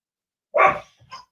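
A domestic dog lets out one sharp, loud bark, then a softer short yip or whimper, in an otherwise quiet indoor space with nobody talking.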